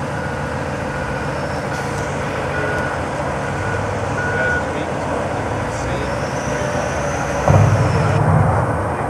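A dump truck sits near a loader and its reversing alarm beeps steadily over a loud, constant engine rumble. A heavier clunk comes near the end.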